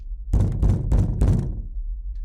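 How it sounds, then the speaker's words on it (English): Loud, heavy knocking on a door inside the horror game Parasocial, three or four hard thumping knocks in quick succession, then a low rumbling tail. "The knocks get louder."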